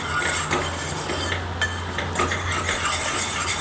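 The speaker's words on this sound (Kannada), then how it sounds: "2 ರಿಂದ 3 ನಿಮಿಷ ಈ ರೀತಿ ತಿರುಗಿಸ್ಕೊಡ್ತಾ ಇರಬೇಕು" A spoon scrapes and clinks steadily against a pan while a kulfi milk mixture with added powder is stirred, a close, continuous rustling with occasional sharper taps.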